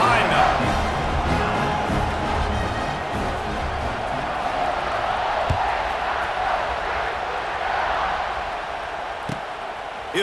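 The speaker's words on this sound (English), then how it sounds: "this crowd now ready to get behind them" Stadium crowd in EA Sports College Football 26 keeps up a dense, steady roar and cheer through a kickoff, with a commentator talking over it.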